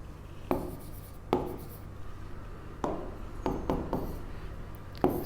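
A pen scratches across paper in separate bursts of short strokes with pauses between them. The strokes sound close and fairly clear, and no one talks.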